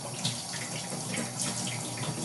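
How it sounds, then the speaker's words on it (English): Tap water running steadily into a sink to rinse empty jars, a continuous close splashing hiss without pauses or talk. "with clean I mean just throwing some water to the jars, to the empty jars"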